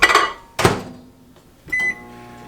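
A microwave oven runs while melting margarine for pumpkin cloverleaf rolls, with a couple of sharp clunks of the door or buttons followed by a short steady hum and a beep near the end, close and fairly loud.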